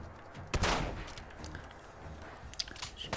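Enemy gunfire in Fallout 4 crackles in a burst of sharp shots near the start, followed by a few scattered distant pops, with no talk over it.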